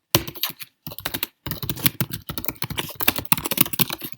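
Fast computer keyboard typing while code is written: dense bursts of close, crisp key clicks with a couple of short pauses, no voices.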